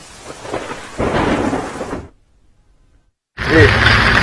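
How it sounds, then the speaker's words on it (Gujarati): Heavy rain roars loudly in Surat, broken by a sudden silence, then returns strongly; a low rumble like thunder swells under the downpour. "સુરતમાં વહેલી સવારથી જ ધોધમાર વરસાદ વરસી રહ્યો છે"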